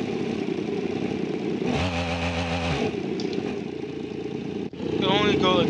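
A restomod Sportizian's upgraded engine in BeamNG revs hard in second gear, a loud harmonic burst rising over a background rumble, then fading, with a talking voice over the top.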